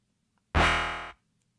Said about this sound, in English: Plus, it had sort of an electric sound to it.